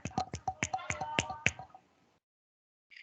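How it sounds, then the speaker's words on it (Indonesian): Scattered applause for a presenting group in an online class: a short run of about nine sharp, separate claps over a second and a half, quiet and close, then silence, with no talk. "mari kita berikan aplaus terlebih dahulu untuk kelompok 3"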